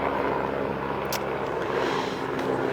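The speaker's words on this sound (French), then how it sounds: "Il y a un hélicoptère." A helicopter passes overhead, a faint, steady broadband rotor and engine drone that stays even for the whole stretch with no voices over it.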